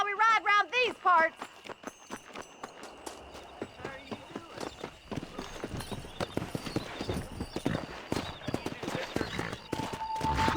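Horses gallop in a Red Dead Redemption race, their hooves clip-clopping in a quick, close rhythm. A horse neighs at the start, and voices can be heard now and then.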